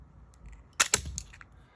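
Crisp mechanical clicks and snaps come from a TOUGHBUILT Reload utility knife as its blade magazine is swapped, with two sharp close clicks followed by a few lighter ones.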